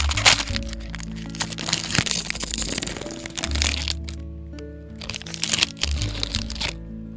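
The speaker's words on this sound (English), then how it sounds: "I'm having a snack now" Close, loud crunching of a crunchy snack being chewed, with repeated crackling bites and crinkly munching in irregular bursts, alone without talk.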